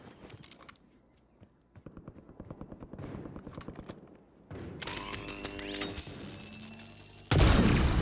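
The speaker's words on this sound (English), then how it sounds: "That's a shotgun." Gunfire in a Call of Duty Warzone match, with shotgun blasts among a chaotic burst of sharp, rapid shots and booms that build louder toward the end, ending in a loud, dense blast.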